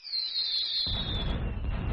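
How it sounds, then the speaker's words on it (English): A fireworks sound effect plays: a high descending whistle sweeps down, then a loud burst gives way to a rumbling crackle that fills the rest of the moment, with no talking over it. "Hold on, let me give him the fireworks"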